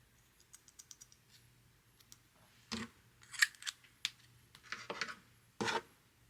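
Small scissors snip crochet yarn for a carnation, a few quiet clicks followed by several sharper, crisp cuts close up in a quiet room.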